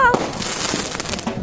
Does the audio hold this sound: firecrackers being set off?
yes